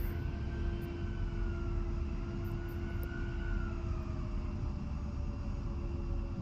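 A-10 jet engines taxiing in the DCS flight simulator, a steady loud turbine roar with a rising and falling high whine, continuous throughout, no voices.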